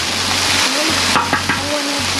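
Eggs frying on a Blackstone griddle, a loud steady sizzle throughout with a low humming drone underneath and a couple of brief scraping taps near the middle.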